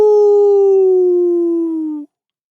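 A single sustained howl, loud and close, holds one long tone that slowly drops in pitch before cutting off abruptly after about two seconds, as a werewolf sound effect in an audiobook.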